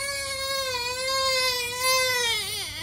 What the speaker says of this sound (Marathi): अगदी थोडा रडला इथे जेव्हा असं प्रिक केलं तेव्हा